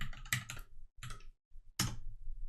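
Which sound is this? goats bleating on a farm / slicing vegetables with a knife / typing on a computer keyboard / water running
typing on a computer keyboard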